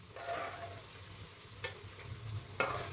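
Pieces of karaage-style Japanese fried chicken fry gently in oil, a soft continuous sizzle with two sharp knocks of a utensil against the pan, quiet and close.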